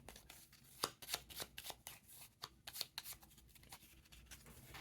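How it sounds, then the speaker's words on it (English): Playing cards being handled and shuffled at a tabletop during a solo game of Imperium, 3rd Edition, a quick run of crisp, close riffling snaps and flicks with no talking. "we need to add a card to the mission stack"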